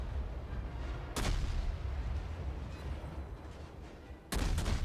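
A warship's main guns fire a salvo in a naval video game, two sharp booming blasts about three seconds apart over a steady rumbling engine and sea background, with no talking.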